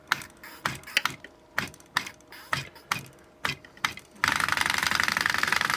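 Gears in a homemade steampunk arcade machine click and clatter in a steady rhythmic series of mechanical knocks, close and loud, then give way to a rapid continuous whirring buzz.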